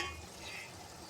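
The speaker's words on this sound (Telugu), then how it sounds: "ఆ వాటర్ మగ్గేంత వరకు మనం ఫ్రై చేసుకోవాలి" Spinach curry fries quietly in a pan while being stirred, a faint, steady sizzle with soft scraping movements close by and no voices.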